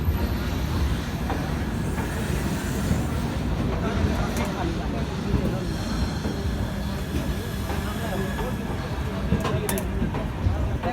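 LTT Kurla Express 11013 sleeper coaches rolling past at KSR Bengaluru Railway Junction, a steady loud rumble of wagons and wheels with faint squeals and clatter throughout, under a talking voice.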